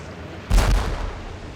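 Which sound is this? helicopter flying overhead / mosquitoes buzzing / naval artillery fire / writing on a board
naval artillery fire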